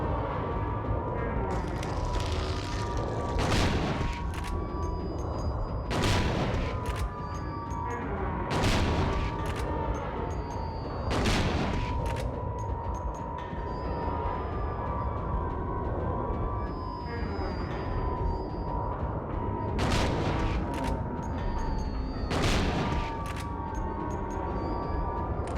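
Repeated booming gunshots from a shotgun and pistol in Silent Hill 2, a handful of loud blasts spaced irregularly over a dense, droning game soundscape with no talk.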